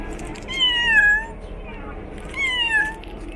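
A cat meows twice nearby, two clear drawn-out calls with a pause between them, over faint background noise.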